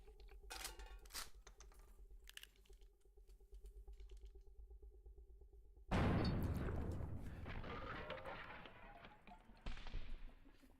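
A shotgun blast in the video game Buckshot Roulette booms out suddenly after a stretch of quiet clicking and typing, then a long rumbling decay and a second burst near the end.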